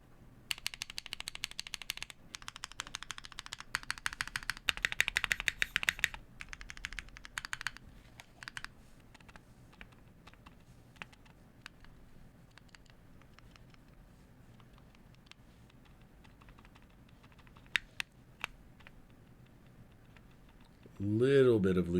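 A TGR Jane V2 mechanical keyboard with lubed Vintage Black switches is typed on in close, rapid clusters of clacks that thin out to sparse single keystrokes. A voice briefly speaks at the end.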